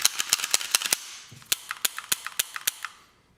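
Dry mechanical clicks from the action of an XR45 PullPup9 rifle being function checked, a rapid run of sharp snaps at first, then a sparser, slightly irregular series of crisp clicks, close and alone.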